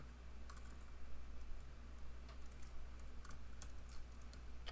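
Rapid, irregular clicking of fingers typing on a computer keyboard while entering CSS code, light crisp keystrokes in bursts over a low steady hum, fairly quiet and close.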